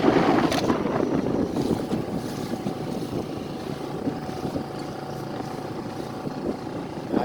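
Steady wind buffeting a small 4hp boat out at sea, a continuous rushing roar with low engine and water noise underneath, loud and close throughout with no talk.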